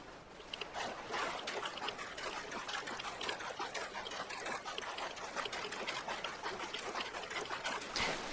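A character in a hazmat suit wades through water in Fallout 4, a continuous splashing, trickling swish with rhythmic sloshes from each step, steady and close throughout, no talking.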